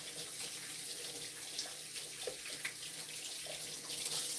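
Tap water runs steadily over asparagus spears held under a kitchen faucet, a continuous close splashing and rinsing at moderate level with small bursts of spatter and no talking.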